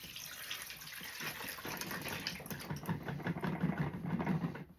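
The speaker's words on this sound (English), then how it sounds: "That's how you just drain that straight through." Water drains through a small hole in a plastic Tupperware bowl in a soft, steady trickle and splash, close and quiet, with no voices.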